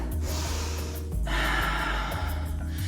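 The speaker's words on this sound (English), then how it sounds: "One more breath." Deep breathing during an athletic yoga flow: a long, loud inhale followed by a forceful exhale through the nose, close to the mic, over a low steady hum.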